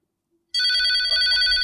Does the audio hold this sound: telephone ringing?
yes